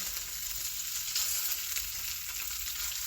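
Already-boiled potatoes fry in a pan with onions, giving a steady, close sizzle that holds for the whole stretch with no talk over it.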